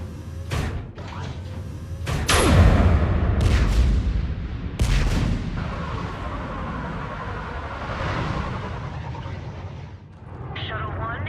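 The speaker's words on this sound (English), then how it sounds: "Have the guns punch a hole in the perimeter" Heavy guns in the Mass Effect 3 video game fire to blast through a perimeter: several loud booming blasts with rumbling tails, spaced irregularly amid battle noise and game voices.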